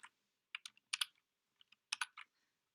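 Control, Shift and Windows keys pressed on a computer keyboard, clusters of crisp close clicks in quick bursts separated by short silences, quiet and isolated.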